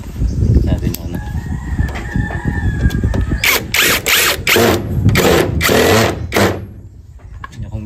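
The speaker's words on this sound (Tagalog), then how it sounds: "brushless cordless drill" A brushless cordless drill with a hammer mode and two speed settings whirs in several short, loud bursts close by, cutting in and out rapidly before stopping.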